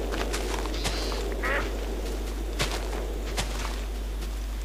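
Duck quacking in the Minecraft Technic Pack, a few short quacks scattered among soft footstep clicks and game ambience, with no speech.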